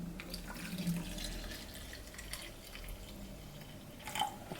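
Water pours into a 40 cl bottle, an irregular trickling and splashing with a few brief drips, fairly quiet and heard on its own.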